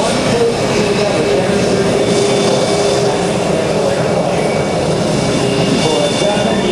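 A low-flying US Navy F-14 fighter jet at a 2010 Joint Services Open House air show roars in a loud, continuous wash of engine noise, with a commentator's voice over the public address partly beneath it.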